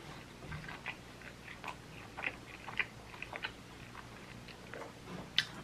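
Someone bites and chews pepperoni pizza close to the mic, with soft wet chews and small crisp crunches in an uneven rhythm and one sharper bite near the end, against a quiet low hum.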